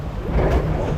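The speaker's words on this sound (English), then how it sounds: "Good splash there" Theme park water ride boat at Energylandia splashing down after its first drop, a loud continuous rushing, roaring wash of water close by, with no voices.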